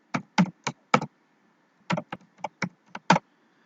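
A workspace name is typed on a computer keyboard in short bursts of crisp clicking keystrokes, two clusters separated by a pause, close and clear with no talk.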